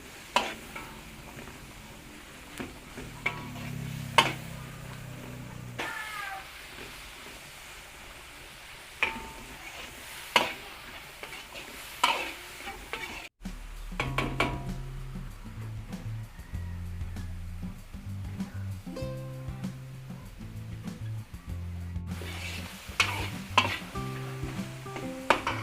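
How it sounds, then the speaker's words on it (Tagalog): Ground beef sizzling in a frying pan as it is stirred, a soft continuous hiss broken by scattered clinks and scrapes of a utensil against the pan, fairly quiet and close. "Lutuin natin yung ating giniling"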